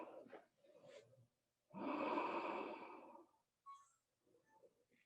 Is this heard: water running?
no